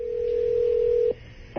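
A telephone line on a radio show plays a single steady electronic tone for about a second that cuts off, followed by a short pause and the start of another tone.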